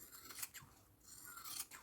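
Scissors cut through synthetic leather, a few close, crisp snipping and slicing strokes, quiet and alone.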